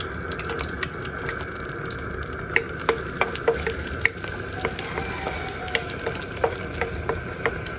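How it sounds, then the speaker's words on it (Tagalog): Garlic sautés in a pan for Filipino upo bacon sotanghon soup, a steady close sizzle broken by scattered sharp crackles and utensil clicks throughout, with no voices. "saute the garlic"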